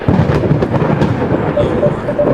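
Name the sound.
thunder in the video game Coffee Talk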